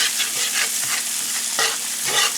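Shallot and garlic fry in a pan with a steady, close sizzle and crackle, broken now and then by soft stirring scrapes. No voices are heard.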